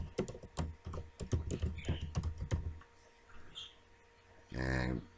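Rapid keystrokes on a computer keyboard while a business email address is entered into a state tax ID registration form, a quick run of close, crisp clicks that stops, followed by a brief louder burst near the end.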